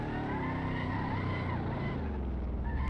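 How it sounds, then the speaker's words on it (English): A Mercedes-AMG SLS in the Assetto Corsa racing game drifts with a steady, loud engine roar and tyre squeal, the pitch sliding and wavering throughout without a break. "That is a massive drift."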